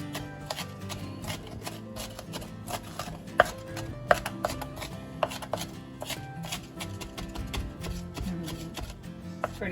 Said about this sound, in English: Go back and chop some of them bigger discs up a little bit.